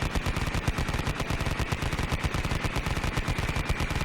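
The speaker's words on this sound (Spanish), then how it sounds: "Ernie y Nick con las ametralladoras saldrían de su lugar y comenzarían a disparar a lo loco" Rapid, sustained automatic gunfire, a dense rattle of bursts continuing without pause, loud and close throughout.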